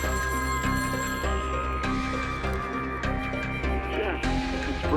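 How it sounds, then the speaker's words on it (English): In the video game DIRT Project, a telephone rings in a central control room. The electronic ring repeats under loud, dense music, with a voice talking over it. "a phone call comes in"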